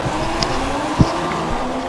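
F1 race cars start the Austrian Grand Prix in the F1 2016 video game, a dense continuous engine drone at steady loudness with a brief thump partway through.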